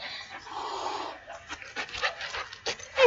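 A dog panting and whimpering outdoors on a homestead, soft breathy huffs and short whines coming in irregular bursts at close range, with quiet movement noise around.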